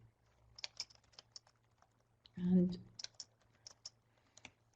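Typing on a computer keyboard, scattered light key clicks spread across the stretch with a brief spoken word in the middle, quiet and close, over a low steady hum.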